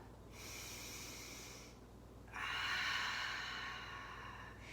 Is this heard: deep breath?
yes